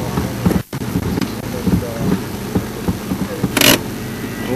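A safari vehicle's engine runs steadily at a low idle rumble, with a brief rustle or thump near the end and muffled voices underneath.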